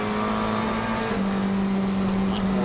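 McLaren GT race car heard on board at Sonoma Raceway, a loud, sustained engine drone with a steady pitch and a small upward shift partway through, continuous and close.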